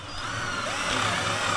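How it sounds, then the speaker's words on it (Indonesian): A 12V DCK KDJZ1202i cordless drill with a 10 mm bit bores through thick pine wood. The motor whines steadily and rises slightly as it cuts, close and fairly loud, over a short burst. "Mengebor kayu yang lumayan tebal sampai tembus"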